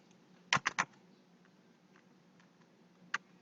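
Keys tapped on a computer keyboard while entering a home address into an online form, a quick burst of three clicks followed by a few scattered faint taps and one final sharp keystroke, close and clear with no talking.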